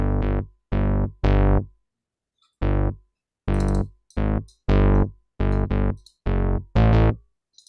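Synth melody played on a basic analog patch in Ableton: a series of short, buzzy, harmonically rich notes in an uneven rhythm, each starting abruptly and separated by silence, loud and alone.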